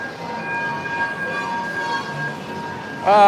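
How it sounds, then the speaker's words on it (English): Train running through a Philippine shopping mall, a steady rumbling roll with a faint whistle-like tone over an indoor crowd murmur, then a louder swell of noise near the end. "I always have to be aware of the train."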